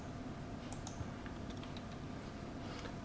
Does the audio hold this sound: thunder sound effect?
no